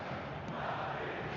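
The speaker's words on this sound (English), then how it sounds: "the crowd are reacting to that now" Football crowd noise from the eFootball video game, a steady broadband roar of stadium fans reacting, holding level throughout with no clear talk over it.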